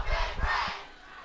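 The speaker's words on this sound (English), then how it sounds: "Crowd getting into a little bit" A student section at a Wyoming high school homecoming football game, Lander at Evanston, lets out a short burst of crowd yelling and cheering that swells and fades within about a second.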